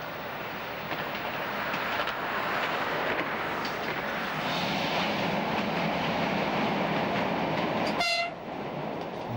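An X 97050 railcar runs on the Corsican railway, with a steady loud rumble and rattle of wheels on track, then a short, bright horn blast near the end. There is no talk.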